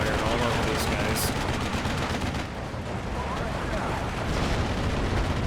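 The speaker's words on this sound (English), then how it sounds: "now I'm just going to lay mortar fire all over these guys" Mortar fire explosions in the Steel Division 2 war game, a dense continuous barrage of booming blasts and crackling impacts, loud and close, with a voice talking over it.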